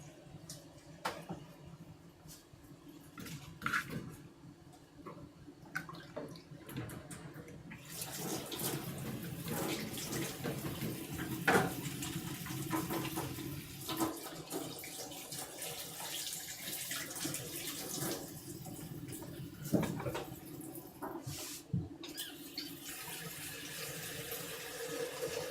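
Tap water runs steadily into a kettle or vessel for tea, a continuous close splashing hiss lasting the whole stretch with small clinks and knocks along the way, no voices.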